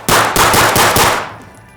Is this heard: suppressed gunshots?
yes